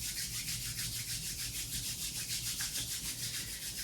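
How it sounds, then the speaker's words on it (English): Palms rubbed briskly together to build warmth during a restorative yoga session, a steady close-up swishing friction sound, continuous and even with a gentle pulsing rhythm and no talk. "Just start to rub your hands together, create some warmth and heat."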